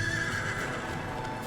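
A horse whinnies loudly and close while its hooves clop beneath, the neigh sustained across the first half before fading into continued hoofbeats, with no talking.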